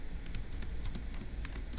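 Notes typed on a computer keyboard in a short run of quick key clicks, close and steady over a faint background hum.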